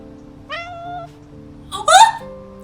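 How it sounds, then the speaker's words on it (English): A stray cat meows twice in the video game Love and Deepspace, a clear drawn-out mew followed by a louder, rising second meow over a soft ambient background. "A stray cat, guided by the smell of food, approaches."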